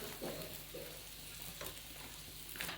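Aloo paratha cooking in ghee in a pan, a steady close sizzle and crackle of frying with a few light scraping touches as it is turned.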